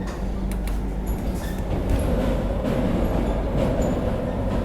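A Vande Bharat train rumbles across the JP Setu rail-cum-road bridge in Patna, a steady low, continuous rolling roar with faint metallic squeals on top and no talking.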